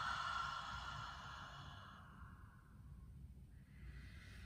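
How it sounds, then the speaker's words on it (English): A slow, deep exhale through the mouth during a yin yoga session, a soft breathy rush that fades gradually over a few seconds, close and quiet, with no talking. "take a deep breath in and exhale through the mouth"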